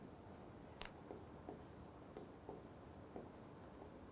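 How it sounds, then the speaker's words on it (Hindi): A pen writes on paper during an essay-writing lesson, with quiet, close scratchy strokes and small taps in an irregular rhythm against a low background hiss. "तो हम लिख देंगे यहाँ"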